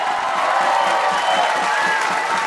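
A large crowd at a political rally in São Paulo applauds and cheers steadily, dense clapping with scattered whoops filling the whole stretch, fairly close and loud, with a faint voice mixed in.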